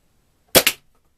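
A Zaneshot toy blaster fires one loud, sharp crack, heard close up as a quick double burst with a second pop right after the first, and then silence.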